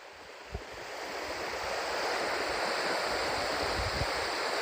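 Waterfall in Chitral, a steady broad rush of falling water that swells slightly and holds loud and continuous, with some wind on the microphone.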